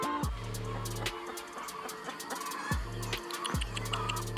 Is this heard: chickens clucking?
yes